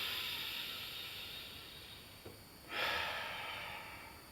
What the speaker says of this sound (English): The best way to get this breathing correct is a 5 seconds in, 5 seconds out motion from the diaphragm.